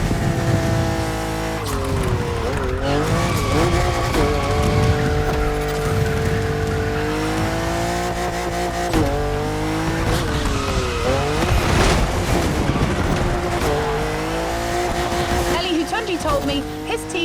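A 1,000-horsepower BMW M4 drift car in The Crew Motorfest, its engine roaring and tyres squealing in long sweeping wails that rise and fall continuously, loud and close with game music underneath.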